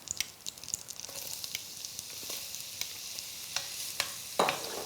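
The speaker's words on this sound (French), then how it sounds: "Là, on va faire suer les échalotes, donc tout doucement, sans faire de coloration" Shallots sweating gently in butter in a cocotte, giving a soft, steady sizzle with occasional stirring clicks and scrapes, close by and quiet with no talking.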